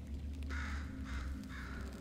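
Bird in Portal 2, about three rough cawing calls at a steady pace, heard over a low continuous background hum.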